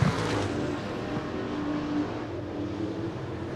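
A race car engine drones steadily down the backstretch at 411 Motor Speedway, with a sustained motor hum that builds slightly midway. No one talks over it.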